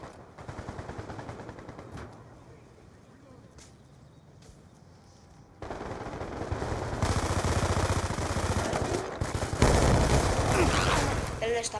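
Rapid bursts of Vector submachine gun fire in Call of Duty Black Ops 2 multiplayer, first sparse and quieter, then dense sustained fusillades with other gunfire in the mix, while someone talks over the action.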